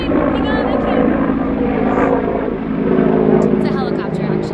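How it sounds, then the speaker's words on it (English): A helicopter passing overhead outdoors, its engine and rotor drone loud and steady throughout, with a voice speaking under the noise. "It's a helicopter actually."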